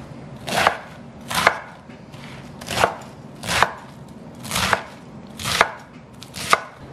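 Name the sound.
roughly chopping vegetables for soup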